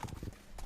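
Hooves of a horse at a stud farm clip-clop on firm ground in a few quick, fairly faint steps over a brief moment.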